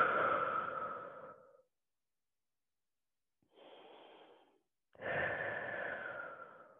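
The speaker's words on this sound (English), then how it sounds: "Big deep breaths in the nose, out the mouth." Deep breaths in through the nose and out through the mouth during a kettlebell workout stretch: a long airy exhale, a pause of silence, a softer inhale, then another full exhale, close and clear.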